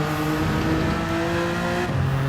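Jaguar XJ220 LM race car in a racing game, its engine droning loud and close at steady pitch, then dropping sharply as it shifts near the end.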